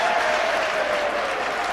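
A rugby league crowd of travelling supporters applauds and cheers a try for Hull Kingston Rovers against St Helens, a dense steady wash of clapping, loud and continuous, with a commentator talking over it.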